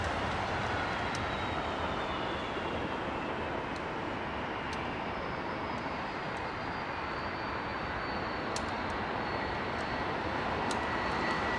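Airliner with Rolls-Royce RB engines fast-taxiing at London Heathrow, a steady, loud broadband jet roar with a faint whine, continuous throughout with no talk.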